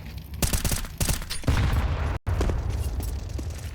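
Dense gunfire in Counter-Strike on the Ancient map during an ESL Challenger League match, shots fired through walls: a loud, continuous fusillade of overlapping rapid bangs with a brief dropout midway, no talk.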